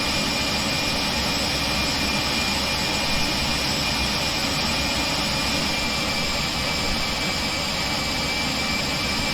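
Jet engines of an AVRO RJ100 airliner in the X-Plane 11 flight simulator, heard from outside the aircraft, produce a steady, loud, unbroken roar with a high whine layered over a deep rumble.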